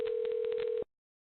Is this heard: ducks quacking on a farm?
no